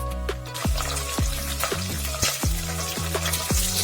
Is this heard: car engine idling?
no